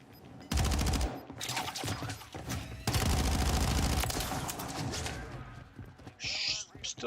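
Sustained bursts of light machine gun fire in a multiplayer shooter game, loud rapid rattling volleys with short pauses, and a brief higher electronic tone near the end.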